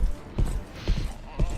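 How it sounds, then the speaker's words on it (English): Heavy footsteps play as a sound effect during a tabletop role-playing game stream: three slow, evenly spaced booming thuds, close and loud, with a voice talking alongside. "You hear heavy footsteps."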